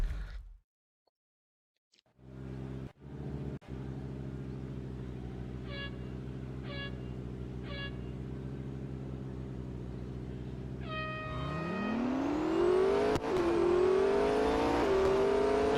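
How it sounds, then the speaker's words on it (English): Engines in a Real Racing 3 video game drag race idle with a steady deep hum, a few short beeping tones count down the start, then the revs surge and climb sharply through gear changes as the cars launch, growing louder. "Next up, drag race."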